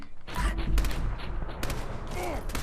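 A few sharp gunshots are fired at a heavily armoured super mutant in Fallout 4, with a heavy thump near the start followed by a couple more bursts and some mechanical clatter, loud and close.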